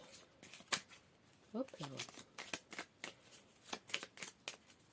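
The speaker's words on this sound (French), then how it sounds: "Allez, on va bien remélanger pour ne pas retrouver les mêmes associations." Tarot cards being shuffled by hand close up, with a series of quick riffling and slapping bursts that start and stop irregularly, and someone speaking briefly in French between them.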